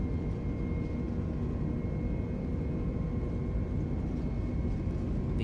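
The jet engines of an A320neo in Microsoft Flight Simulator drone through a takeoff roll as a low, steady roar with faint sustained whine tones, fairly quiet and unchanging throughout.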